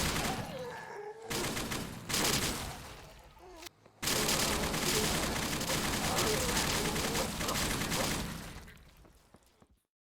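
Heavy, sustained bursts of M60 machine gun fire from the video game Those Who Remain, loud and close, with brief pauses between long volleys before trailing off.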